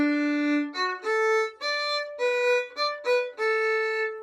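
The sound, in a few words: violin playing open D string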